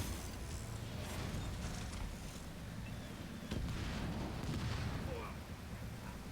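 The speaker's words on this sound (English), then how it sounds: "We're being shelled by artillery." Artillery shelling in the Halo Wars 2 video game, a dense rumbling barrage of blasts that rolls on steadily without a break.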